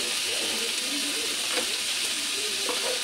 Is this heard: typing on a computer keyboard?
no